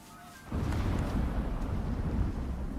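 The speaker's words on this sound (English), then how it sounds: "That was some well-timed thunder and lightning." Thunder erupts suddenly during a storm in the survival game Icarus, a deep rumbling roll that breaks in loudly after a quiet moment and keeps growling on with no voices.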